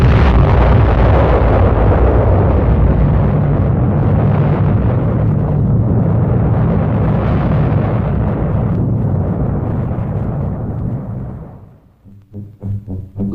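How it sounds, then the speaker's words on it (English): A 1957 nuclear bomb test explosion in the desert, heard from an observation area some 18 miles from ground zero, booms as a long, loud, sustained roar that rumbles for about eleven seconds before dying away abruptly. "The observation area is some 18 miles behind Ground Zero, still near enough for a close-up view of the explosion."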